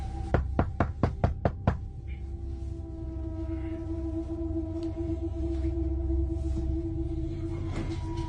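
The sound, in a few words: heavy pounding outside a cabin door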